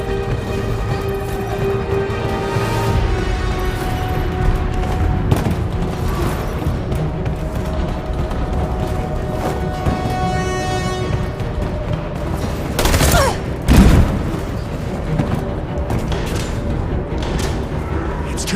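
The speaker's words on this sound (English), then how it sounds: "Bomb's gonna explode any second." A bomb going off in the video game Detroit: Become Human, with a loud boom bursting out of a tense, rumbling game soundscape, followed by a second, smaller blast.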